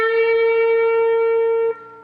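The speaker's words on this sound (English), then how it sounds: "we're going to pick this note and we're going to push it up a half a step" A single distorted electric guitar note is picked at the 14th fret of the G string and bent up a half step, ringing steadily and clearly before dropping off abruptly near the end; no voices.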